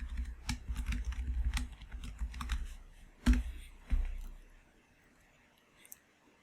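Someone types a password on a computer keyboard with a quick, close run of key clicks, then a couple of louder, heavier key presses before the typing stops and things go quiet.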